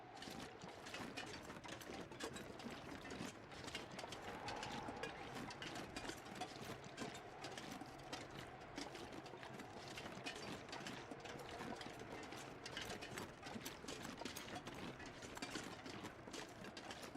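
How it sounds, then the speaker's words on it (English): A video-game locomotive engine runs steadily, with a dense, continuous mechanical clatter and chug over a low hum, holding an even level throughout. "Locomotive engine."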